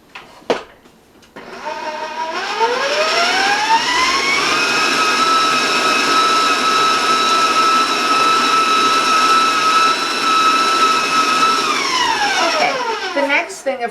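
An electric mixer beats chocolate apple nut brownie batter: a steady, loud motor whine that ramps up, holds for about ten seconds, then winds down, with a few knocks against the bowl at the start and end.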